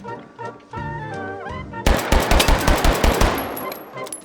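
Rapid pistol shots ring out in the H3VR video game, a burst of about ten sharp reports in quick succession that follows quiet narration, loud and close with ringing tails.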